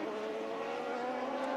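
IndyCar race car engine heard onboard with Giorgio Pantano's car, a steady loud droning whine that holds constant throughout with no pauses.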